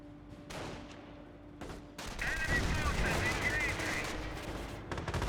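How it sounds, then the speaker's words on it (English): Rapid rifle and machine-gun fire from German grenadiers shooting from cover in the World War II strategy game Company of Heroes, a dense crackling burst that swells in the second half and rolls on continuously. "Grenadiers firing away from some cover"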